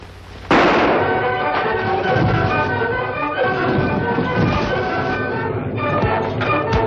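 Gunfire in an old-time radio western: a sudden loud burst, then a dense, busy stretch of shots and action noise with music-like tones running steadily through to the end.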